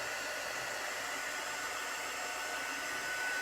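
A dryer-style heat tool blows a constant airy roar over chalk paste on a flag, steady and fairly close, with no talking.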